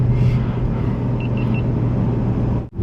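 A 2024 Porsche GT3 on a track, heard from inside as a loud steady engine rumble and drone, three short electronic beeps partway through, cutting out abruptly at the end.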